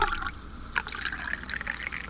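Drink poured into a glass near a microphone, a close liquid trickle with fizzy bubbling and small drips running continuously, fairly loud, with no talking.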